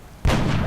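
A single sniper rifle shot fired in the turn-based strategy game XCOM: a sudden loud, close blast breaking out of a quiet background and ringing on with a broad, sustained roar to the end.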